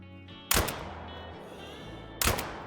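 Two loud, sharp blasts from a 12-gauge semi-automatic shotgun during a whitetail hunt in Call of the Wild, spaced under two seconds apart, with a quiet outdoor ambience between them.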